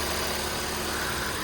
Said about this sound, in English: engine's running fine, no issues there, no vibrations